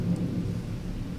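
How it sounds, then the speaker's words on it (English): Thunder played as background theming in a tabletop game session, a low, continuous rolling rumble with a faint hiss of rain, steady and unbroken throughout. "That's thunder?"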